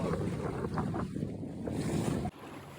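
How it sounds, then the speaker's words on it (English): Heavy wind roars across the microphone aboard a Buccaneer 18 sailboat, with water rushing along the hull, a steady loud buffeting that drops abruptly near the end. "we getting some pretty heavy wind"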